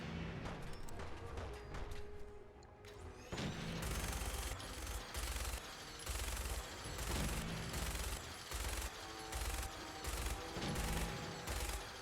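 A minigun fires in the video game Fallout 4 in long, dense rattling bursts of rapid shots with brief gaps, loud and continuous over a rumbling background.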